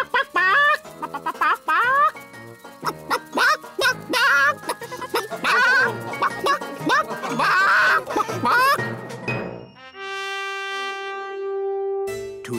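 A cartoon chicken clucks and squawks in a run of animated, voiced calls that sound like a performer imitating a hen, loud and close, then giving way to a bright chiming musical sting at the end.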